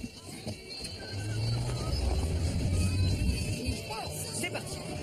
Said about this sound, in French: il va falloir que je passe en 4 roues motrices